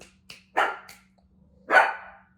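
A dog barks three times indoors, close and loud: one short yip, then two fuller barks spaced about a second apart, with quiet gaps and no talking.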